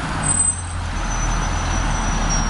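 A city bus drives past with a loud, steady engine rumble and a thin high hiss from the air brakes over the whole stretch.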